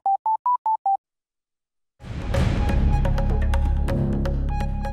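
Five short beeping tones from an SLT home telephone play in quick succession, then a pause and a loud, dense burst of sound with tonal accents that continues to the end.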